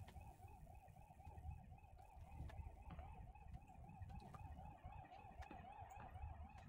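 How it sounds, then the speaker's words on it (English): An alarm in the video game Control wails in a rapid, regular warbling siren pattern, faint and distant-sounding over a low rumbling background, steady throughout. "There's an alarm going off somewhere."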